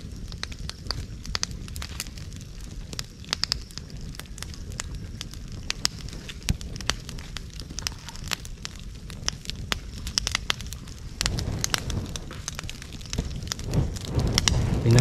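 A wood fire being fanned to cook shells for making apog, giving steady close crackling and popping with rushing, wind-like puffs of air throughout and no talk.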